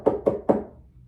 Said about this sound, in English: let me knock on the door of one of these little round huts